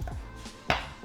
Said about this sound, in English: we're gonna slice off a nice chunk of this beautiful